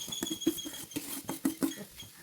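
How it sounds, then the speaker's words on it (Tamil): Boiled potatoes being mashed by hand for potato bonda, a string of soft, irregular squishy thumps and scrapes close up, with no talking. "நல்லா மசித்து எடுத்துக்கோங்க."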